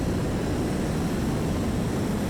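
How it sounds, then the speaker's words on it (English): Roaring rocket engines thrust a jet aircraft forward in Kerbal Space Program 2, a steady, loud, dense engine rumble holding without break from start to end, with no voices. "hopefully these rocket engines will now help us push this jet to the next level"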